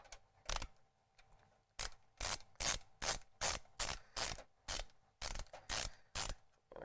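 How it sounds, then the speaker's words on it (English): Repeated ratcheting screwdriver turns loosening screws on a PC case, about a dozen short, sharp bursts in an uneven rhythm, close and clear with no talking. "I've got some screws right here that I can loosen"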